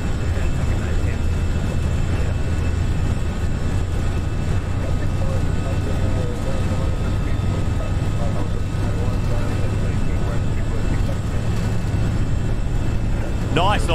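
FSLabs A320 takeoff roll in the Prepar3D flight simulator, a steady, continuous engine roar and rumble that holds evenly throughout.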